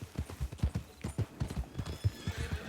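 Horse hooves clip-clop in a quick, close rhythm, with a whinny mixed in, on an 1899 trail setting, heard alone without talk.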